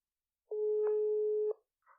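Phone ringback tone during a call to a guest: a single steady electronic beep lasting about a second, clean and isolated against silence, followed by a faint brief sound.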